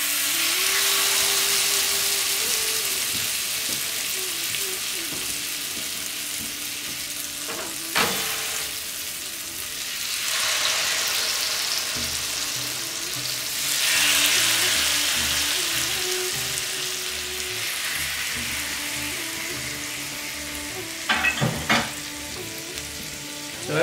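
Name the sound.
chicken malai tikka skewers sizzling on oiled grill plate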